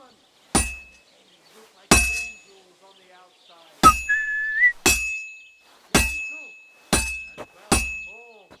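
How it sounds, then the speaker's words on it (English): Metallic clangs of a hammer striking a sword on an anvil at a blacksmith's forge in the video game Kingdom Come Deliverance 2, seven ringing blows spaced about a second apart, each with a bright sustained ring and a short tail. "Now take the hammer and try hitting it a few times."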